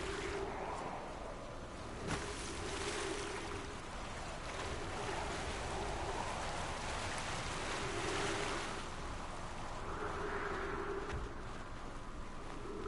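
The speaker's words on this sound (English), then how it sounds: "It is water." Water waves in the Outer Wilds video game wash in a steady, soft surf, broad hissing swells rising and falling at a gentle rhythm with a faint tonal hum beneath.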